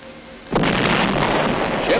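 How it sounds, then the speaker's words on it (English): One sudden heavy boom from UN fleet naval guns firing point blank at Wolmi island, followed by a loud rumbling roar that carries on to the end. "the UN fleet fire point blank at the island"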